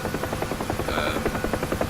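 Helicopter in the DCS flight simulator game: a steady, dense rotor chop with a rhythmic beat under a constant engine whine, close and loud throughout.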